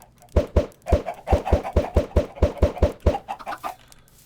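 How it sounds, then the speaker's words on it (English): Blocky Minecraft chickens cluck in a rapid, steady run of a dozen or so short, punchy calls, loud and close with no talk over them. "Look at all of our chickens we've just been spawning with these eggs."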